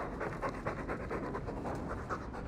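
A dog in the Dragon Age 2 video game pants in quick, rhythmic breaths, steady and fairly faint, with no speech over it.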